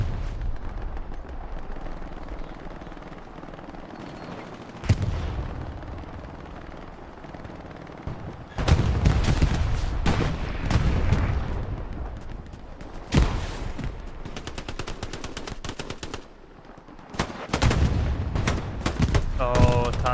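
Gunshots ring out in Hell Let Loose during a competitive match: scattered single cracks, then clusters of rapid fire in several loud bursts, separated by quieter stretches of battlefield ambience.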